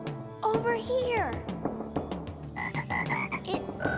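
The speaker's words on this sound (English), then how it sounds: "Another one. Must be a frog convention." Frogs croaking at night in the woods, a dense chorus of repeated throaty croaks and chirps from several animals close by, mixed with higher calls and a voice.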